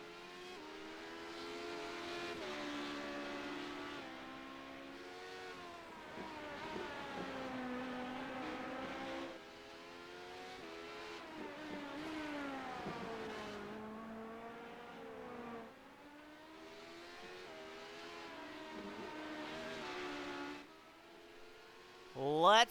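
Race cars run laps on a circuit in the closing laps of a race, engines droning and rising in pitch as they pass, continuous and fairly loud with a commentator talking over the sound.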